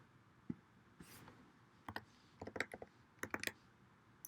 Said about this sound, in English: Just type that in, hit enter